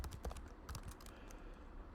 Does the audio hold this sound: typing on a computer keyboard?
yes